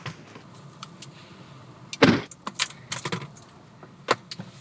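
Keys jingle in scattered bursts, nearby and fairly quiet, with one sharper rattle partway through and a few smaller clinks after it as someone gets ready to head out.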